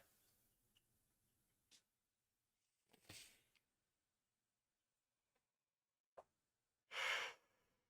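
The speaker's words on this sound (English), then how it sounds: "Apologies for the yawn there." A faint, drawn-out yawn close to the microphone, broken into breathy bursts with small mouth clicks and ending in a louder airy exhale.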